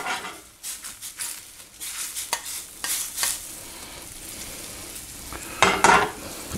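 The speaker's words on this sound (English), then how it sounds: "Get that butter in there melted nice" Butter melts in a hot pan while a cook prepares tilapia, giving a continuous sizzle broken by scraping stirs and light clinks of a utensil against the pan, ending in a louder clattering burst.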